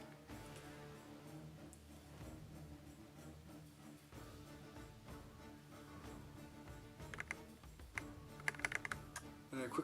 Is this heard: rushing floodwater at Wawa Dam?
no